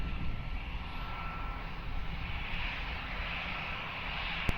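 An airliner on approach to Lisbon Airport gives a steady broadband engine roar that holds at a fairly even level throughout, without clear rise or fade.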